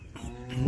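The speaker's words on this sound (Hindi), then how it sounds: "ये भैंस जो है साहिवाल जा रही है जी" Buffalo on a livestock farm giving a low, rising moo at close range, brief and alone, swelling louder at the end.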